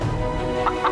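Roosters cluck and gobble in an animated story, close and loud with a steady throaty run of calls and two sharper clucks near the end, no talk.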